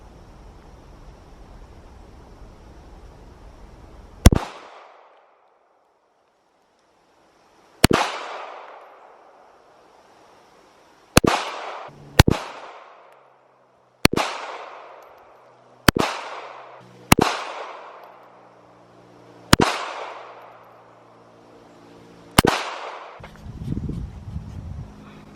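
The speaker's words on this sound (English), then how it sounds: "I'm going to shoot 3 two-handed, I'm going to shoot 3 right-handed and 3 left-handed" Nine sharp pistol shots from a Bodyguard 2.0, fired two-handed and then one-handed, come as loud single cracks with ringing decay, spaced irregularly a few seconds apart, the later ones in quicker pairs.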